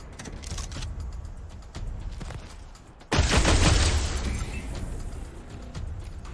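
Enemies fire on the party in the video game Wasteland 3, with rapid crackling bursts of gunfire followed by a loud, sustained roaring volley that swells and slowly trails off.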